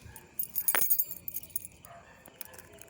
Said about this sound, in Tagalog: Kunin ko muna ang susi. Tapos bubuksan ko ang gate.